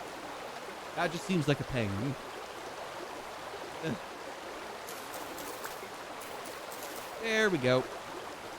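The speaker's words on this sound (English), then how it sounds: "Sorry about all the loud noises of the water. I can't tell if that's the rapids that make the water wheel go very fast or not." Rushing river rapids turn a water wheel in the Vintage Story game, a steady hiss of flowing water running under brief bursts of someone talking.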